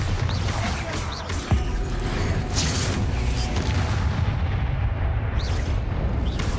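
Bombarda explosion spell cast in the Hogwarts Legacy video game, a sharp boom near the start followed by rumbling blasts and crackling bursts, loud and busy with game effects throughout.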